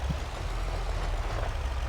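Truck rig engine in the farming game Farming Simulator 25, a steady low idling rumble held throughout at moderate level with no talk.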